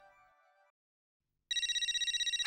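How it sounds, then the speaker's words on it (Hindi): A telephone starts ringing abruptly after a short silence in an Indian TV sitcom scene, a loud, rapid, evenly pulsing electronic ring that fills the end of the clip. "मुसीबत का नाम लिया लिया और जेठालाल का फोन आ गया।"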